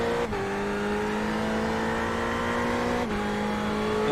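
Engine of a racing car in a racing video game, accelerating to overtake, holds a steady loud high-pitched drone with two brief dips where it shifts gear, sounding close and continuous with no talk.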